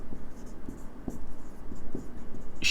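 Calligraphy pen scratching in short strokes across a surface, faint, soft rhythmic scraping with small pauses between strokes and a brief bright tick near the end.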